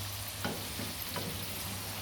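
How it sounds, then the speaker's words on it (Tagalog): Homemade french fries frying steadily in hot oil, a soft continuous sizzle with a few faint stirring touches, quiet and close with no voices. "Luto ng ating french fries"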